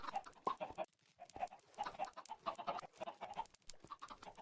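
Minecraft chickens clucking in an underground chicken farm, a busy overlapping run of short clucks and squawks, close and fairly loud, with brief pauses between bursts.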